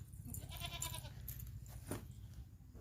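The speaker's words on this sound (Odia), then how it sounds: "ଛେଳି ଛୁଆ ସେଠି" A day-old goat kid wearing a black ribbon bleats in a few faint, thin cries against quiet rural background noise.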